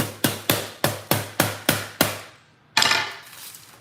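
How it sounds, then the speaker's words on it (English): A hammer strikes the hard salt crust of a whole baked pompano in eight sharp, evenly spaced knocks, followed by a pause and then a louder cracking, crumbling break. "I bet none of y'all have ever taken a hammer to a cooked fish before"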